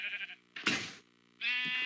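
Sheep bleating nearby, let out of a pen into the sun: two drawn-out, wavering bleats separated by a brief rustling burst, loud and close with no talk.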